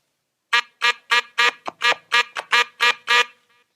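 A DJ's record-scratching stab technique on a turntable: about eleven short, sharp, pitched bursts in quick succession, close and loud, each cut off abruptly with silence between, and no one talking.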